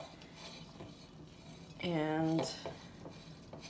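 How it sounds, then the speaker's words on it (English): Utensil scraping and clinking against a bowl while stirring a Mexican quinoa salad with lime juice and chili powder, a brief busy burst near the middle amid quiet kitchen noise, with light speech around it. "So we're going to give it a stir"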